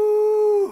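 A hypnotized person imitates a wolf with one loud, sustained howl held at a steady pitch, then dropping off sharply at the end.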